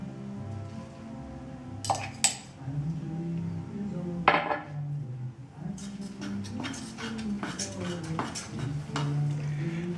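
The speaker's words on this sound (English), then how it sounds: "All I have to do now is mix in my yeast and sugar." Yeast and sugar mixed into bread dough in a bowl, with repeated clinks and scrapes of a utensil against the bowl, soft stirring in between and a low steady hum throughout.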